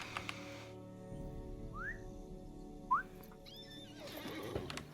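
A horse in the video game Lord of the Rings Online gives two short, rising whinnies over a soft, steady in-game ambience, with a whistle-like tone near the end.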